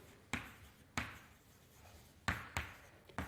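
Pen or chalk marks jotting down comments in a quiet lecture on Hilbert spaces, a handful of sharp taps and strokes spaced irregularly against faint room noise, with no talking.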